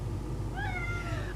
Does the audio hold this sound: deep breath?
no